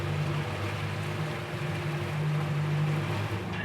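A Yamaha motorboat with the Helm Master EX joystick system accelerating away through a marina, a steady, loud engine drone with water wash and no speech.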